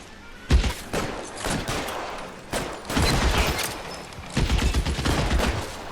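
Bursts of gunfire in the video game L.A. Noire, with several rapid volleys of shots clustered together, loud and sustained over a steady background din.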